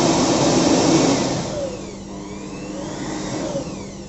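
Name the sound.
650 watt electric air blower running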